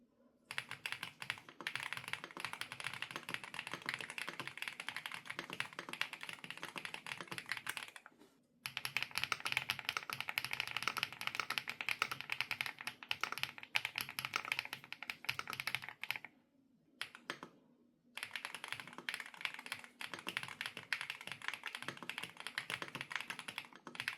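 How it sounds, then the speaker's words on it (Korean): Sustained fast typing on a Rainy75 mechanical keyboard with a pebbly, rounded clack, close and steady across the whole stretch, broken by two short pauses, no voices. "그러면 타건 해보겠습니다"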